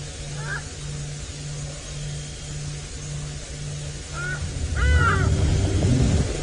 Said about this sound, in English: Some hardy-daws calling.